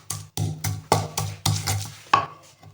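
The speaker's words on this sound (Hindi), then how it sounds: "अब हम इन तमाम चीजों को पीस लेंगे।" Chutney ingredients are ground in short repeated bursts, about eight choppy pulses of a grinder or mixer, loud and close with brief gaps between.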